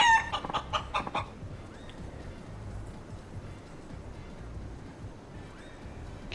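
A cochin chicken in a video game set in a city street gives a short burst of several clucks right at the start, then falls quiet against a steady background hum.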